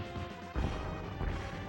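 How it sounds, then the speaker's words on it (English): A fence post is smashed in the Batman Returns video game, a loud crunching crash landing mid-clip, followed by a second impact and lingering rumble over game music. "LRock smashing that fence post there"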